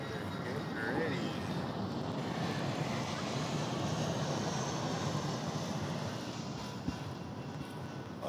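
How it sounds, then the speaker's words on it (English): An airplane landing, heard as a steady distant engine roar that fills the whole stretch, with wind rumble and outdoor background noise. "Another plane is landing."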